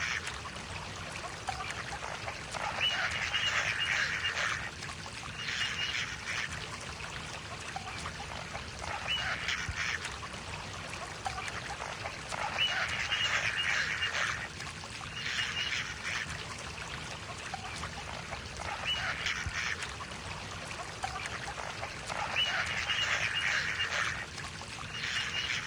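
A baby duck with a fishing hook stuck in its mouth calls in repeated bursts of nasal quacking every few seconds, faint and somewhat distant over a steady outdoor background hiss.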